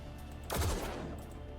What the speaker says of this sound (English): Hold position, fire weapon.